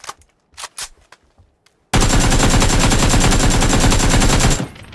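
Sustained automatic AK rifle fire in a video game, a dense, loud, continuous burst running about three seconds after a few faint clicks and taps, then cutting off abruptly.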